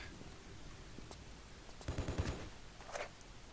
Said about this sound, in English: Someone's shooting me?